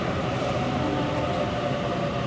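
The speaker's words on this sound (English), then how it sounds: "this train's coming in" Train pulling into a station, producing a dense, continuous rolling roar of wheels and rail noise at a constant loud level.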